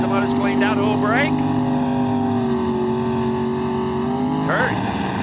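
Drag racing cars at the 1995 NHRA Winston Select Finals hold loud, steady, droning engine revs in the staging lanes, with a deep continuous roar that shifts pitch slightly near the end.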